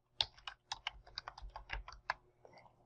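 A password is typed on a computer keyboard in a quick run of about a dozen light, close key taps with a brief pause near the end, quiet and with no voices.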